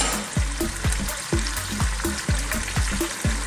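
Lamb, potatoes and carrots browning in an uncovered pot sizzle steadily, while a spoon scrapes through them in regular, fairly loud strokes about twice a second.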